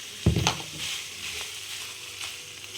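Peri peri chicken frying in a pan, a soft continuous sizzle with a brief stirring clatter near the start, quiet and close.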